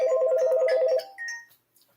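Telephone rings in for a radio show call, a loud, rapid warbling electronic trill lasting about a second, followed by a short fainter tone as it cuts off, with no talking.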